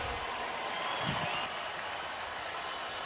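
Stadium crowd at a Clemson versus Syracuse college football game, a steady broad roar of distant cheering and applause that swells briefly near the middle, with no clear talk over it.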